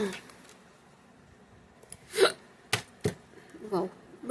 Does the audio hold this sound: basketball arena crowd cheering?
no